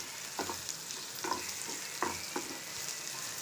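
Chopped onion and green chilli frying in hot oil in a pan for a masala egg omelette, a steady close sizzle broken by several soft stirring scrapes, with no talking.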